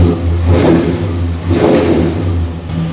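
Close, loud revving from a 1966 Ford Galaxie engine through its exhaust: two rising throttle blips over a steady, deep-toned rumble.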